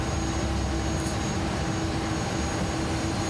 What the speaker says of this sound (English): let's go ahead and start engine 1